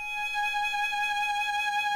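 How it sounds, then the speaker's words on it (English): A violin sustains a single A flat in first position, one steady bowed note with bright overtones held evenly at moderate loudness, close and alone without any voices. "and an A flat, it sounds like this."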